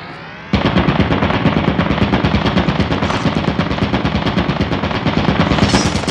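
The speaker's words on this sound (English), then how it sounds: "Look what happens when you hit the turret." A turret in the Lethal Company video game opening fire, a sudden loud rapid machine-gun stream of evenly spaced shots that holds steady for several seconds, close and dominant with no talk.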